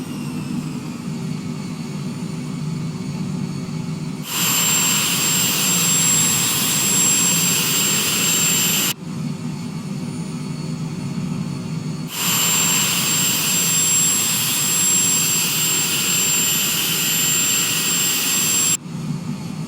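Jet engines roar steadily in an airliner cabin during a rapid descent, the sound stepping between a duller low rumble and a brighter, louder hiss as the throttles are pulled back, continuous and close.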